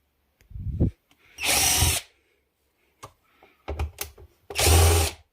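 A power screwdriver backs screws out of an LED TV in two loud whirring bursts of about half a second each, separated by clicks, taps and handling noises on the set's casing.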